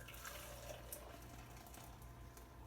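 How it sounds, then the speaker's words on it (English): Hot, steaming milk is poured into a container while making homemade yogurt, giving a steady, soft liquid trickle and splash that continues evenly throughout, fairly quiet and heard alone without talking. "we're going to pour our hot steamy milk in here"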